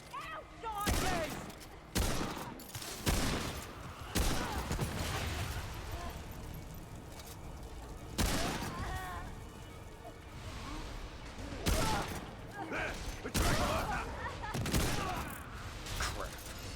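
Gunfire in the video game Remnant II comes in sharp, loud bursts of shots and blasts, some close together and some spaced apart, mixed with game sounds during a solo combat fight.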